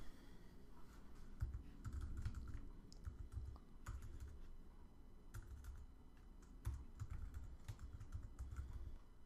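Rapid typing on a computer keyboard while entering app code for an iPhone tip calculator, an irregular clatter of key presses in bursts with short pauses, close and moderately loud, with no one speaking.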